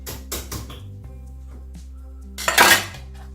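A metal cooking pot knocked and clanked as it is set into a switched-off oven in a home kitchen, a few sharp clatters with a louder metallic clunk near the end.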